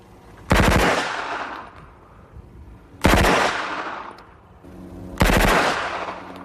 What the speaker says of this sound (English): I will fire two 3-round bursts initially